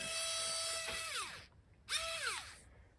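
Very fine-tipped drill bit spinning up in a high, whining burst that winds down, then a second shorter run after a pause, close and steady, during cannon port cover work on an Artesania Latina 1:84 Santisima Trinidad model ship.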